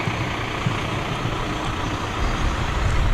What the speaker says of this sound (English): vehicles from the Chazy Fire Department